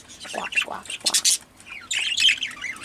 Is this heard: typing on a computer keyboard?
no